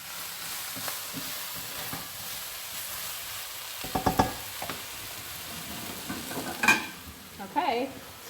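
Vegetables stir-frying in a pan over high heat, a steady sizzle running throughout with occasional louder scrapes and clatters of stirring toward the end.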